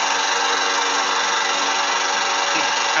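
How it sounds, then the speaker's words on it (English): A lawn mower running outside, a loud steady motor drone with a broad hissing roar that holds constant without pauses, no voices. "of course it's time to mow the lawn"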